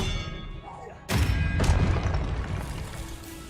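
Confringo spell cast in Hogwarts Legacy, a sudden heavy fiery blast followed by a second burst and a rumbling tail over game ambience, with a voice speaking nearby.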